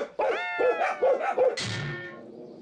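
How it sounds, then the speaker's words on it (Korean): A large, fierce dog named Hunter at a house in a rural village, giving a quick run of four or five loud, close barks followed by a longer strained, whining yelp. "집 앞을 지나가는 사람만 봐도 무섭게 짖어댄다는데요"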